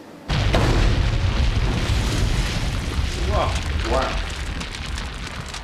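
A high explosive shell detonating in the ground beside barbed wire: a sudden loud boom followed by a long rumbling roar and scattering debris, while a voice exclaims partway through.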